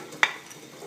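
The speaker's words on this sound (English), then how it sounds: "you will wanna roast the onion. So have it on high so it can roast nicely" Chopped onion dropped into half a cup of hot oil on high heat for a roux, a sudden sizzling burst that quickly fades into a faint, steady frying hiss.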